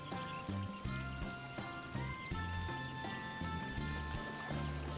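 In Sakuna: Of Rice and Ruin, water pours into a rice field with a steady trickling flow lasting several seconds. Game music plays underneath it.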